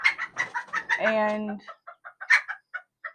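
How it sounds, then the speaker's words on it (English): Serama micro chickens cluck in quick, close bursts, broken by one drawn-out squawk, then return to short, evenly spaced clucks, with a brief voice in between. "So they are a micro chicken breed."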